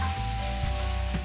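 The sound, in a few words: mushrooms frying with onions in olive oil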